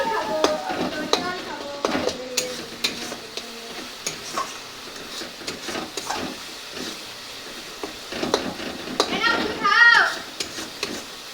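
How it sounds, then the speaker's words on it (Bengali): Spice paste sizzles and crackles as it is stirred and fried in a pan for a chicken curry, with soft scraping strokes and steady frying hiss, close and moderately loud, with no voices. "মশলা কষা হয়ে গেছে"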